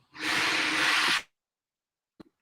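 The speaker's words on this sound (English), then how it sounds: "I'm having drills in the background" A power drill whirs in a single loud, continuous burst of about a second, then stops abruptly. Two quick faint knocks follow in the quiet.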